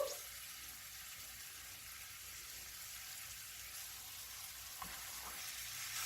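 A pork chop for smothered pork chops fries in a pan, a continuous bright hissing sizzle at moderate level with a couple of faint clicks partway through.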